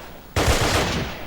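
Sturmgewehr 44 automatic fire in a video game: after a moment of low background, a loud, rapid burst cuts in abruptly and keeps rattling to the end.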